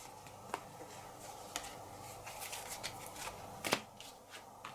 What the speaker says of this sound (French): Donc, je vais poser cette carte.